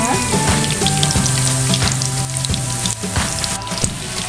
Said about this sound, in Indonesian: Ini lagi menggoreng tahu ya Bunda.